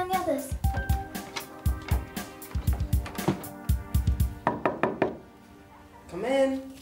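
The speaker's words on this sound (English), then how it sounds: "Thank you for knocking, Tracy." Rapid knocking on a door, many quick loud raps in bursts close by, with a voice briefly heard toward the end.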